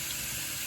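Water runs steadily from a bathroom tap in a short, even rush of hiss. It is close and fairly quiet, with no voices.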